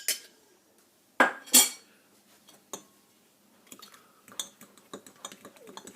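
Utensil stirring an egg cream mixture in a bowl for a German apple cake, giving a few sharp clinks against the bowl followed by quieter scraping and tapping, close and alone.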